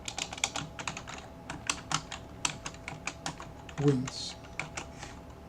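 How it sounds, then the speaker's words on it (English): Rapid, uneven keystrokes on a computer keyboard while code is written, clicking steadily at close range with a brief louder clatter midway and a few quiet words spoken. "If I can type, create a new line"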